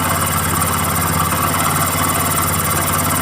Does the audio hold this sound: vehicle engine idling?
yes